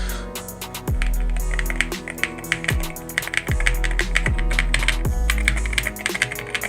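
Rapid typing on a custom GMK67 mechanical keyboard fitted with Akko V3 Pro Cream Blue switches, a close, steady stream of crisp keystrokes with a few heavier thocks from larger keys, heard alone.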